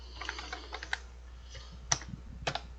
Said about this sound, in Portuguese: vai digitar um asterisco